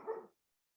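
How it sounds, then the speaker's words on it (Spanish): A dog barks once outside, a short muffled bark that fades quickly into silence. "tenemos los perritos ahí afuera formando parte también de la live"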